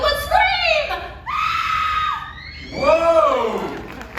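A woman in the audience at the Universal Studios Hollywood special effects show lets out three long, loud, shrill screams in quick succession, each rising and wavering, with brief gaps between them.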